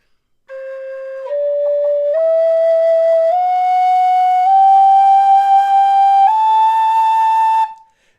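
A tin whistle plays a sustained, clear tone starting on C sharp that steps upward in several small pitch changes as breath pressure increases, sounding alone and close.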